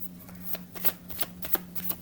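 Tarot cards shuffled by hand in a reading, a quick run of crisp riffling flicks and soft slaps over about two seconds, close and fairly quiet with no talking.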